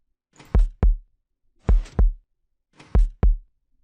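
Minecraft redstone clock pulsing like a heartbeat in a Hermitcraft-style build, three evenly spaced lub-dub double thumps, deep and clear with silence between each pair.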